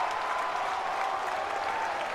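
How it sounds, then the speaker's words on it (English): A North Carolina college baseball crowd applauds and cheers steadily at moderate distance, a continuous wash of clapping and voices from the stands with no distinct commentary. "This Carolina crowd coming alive."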